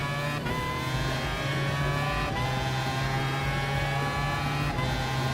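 Race cars in Gran Turismo Sport, including a Toyota TS050 Hybrid, drone at high revs with a steady engine whine, shifting pitch through gear changes, loud and continuous with no talking.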